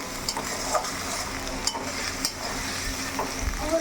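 Chopped onions fry in a pan and are stirred, giving a close sizzle broken by repeated scraping strokes and light clinks of a utensil against the pan.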